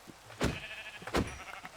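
Black sheep bleating in Minecraft, two short close bleats about a second apart over a faint background hum.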